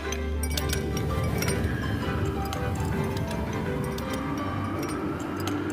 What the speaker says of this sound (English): The Joy-Con can convey to you the feeling of ice cubes colliding in a cup.